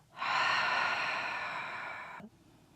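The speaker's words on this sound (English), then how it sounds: "This time an exhale out the mouth." One long, forceful exhale pushed out through the mouth in a restorative breathing session, a steady breathy rush that starts abruptly, holds for about two seconds and cuts off sharply, close and clear with no speech.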